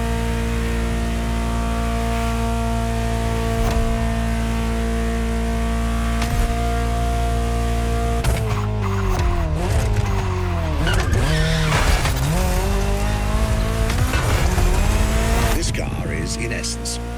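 A Ferrari 288 GTO in The Crew Motorfest racing game holds a loud steady engine note, then revs rise and fall sharply with squealing tires through corners, under a faint voice.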